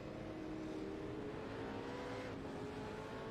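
A pace car circles the track during a V8 SuperSeries race, its engine a steady droning hum with a slight rise in pitch and no voices.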